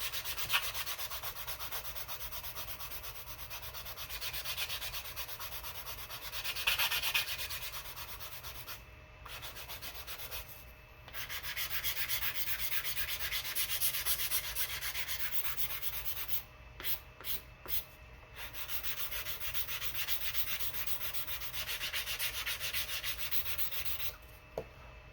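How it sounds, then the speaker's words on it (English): Sandpaper rubbing back and forth over the wooden nose of a P-30 rubber-powered model airplane, close and soft, with steady strokes broken by several brief pauses. "Now don't sand this all the way around."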